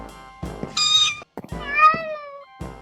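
A kitten from the Minecraft Mo' Creatures mod gives two clear, high meows in quick succession, separated by short clicks and soft game noises.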